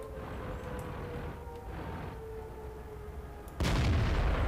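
Tank cannon fire in World of Tanks: steady engine rumble with faint distant shots, then a sudden loud, broadband blast near the end that stays heavy and booming.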